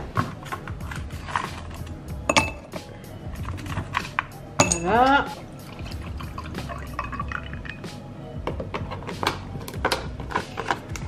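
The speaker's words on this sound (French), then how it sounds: "Donc on va mettre le lait là-dedans. Dans les glaçons." Milk poured into a glass over ice cubes for a summer TikTok drink hack, with close dripping, splashing and clinking of ice, a rising filling gurgle midway, and a voice briefly speaking.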